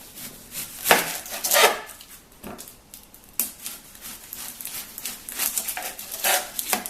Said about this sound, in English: So you just want to take the onion and cut off the top and the bottom.